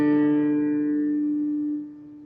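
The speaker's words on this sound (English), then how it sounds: "D is supposed to sound like that." A single plucked string playing a D note rings out clearly, sustaining with strong harmonics and slowly fading, with no other sounds.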